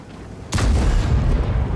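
A tank cannon in a tank video game fires a high-explosive shell, one sudden loud boom followed by a heavy rumbling tail, alone without any voices.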